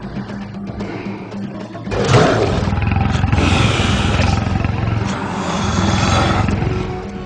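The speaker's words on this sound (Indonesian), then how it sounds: "Kemarilah macan jelek" A tiger roars loudly and close in a forest, a deep rumbling roar that swells after a quieter, rustling lead-in and holds for several seconds with a second surge near the end.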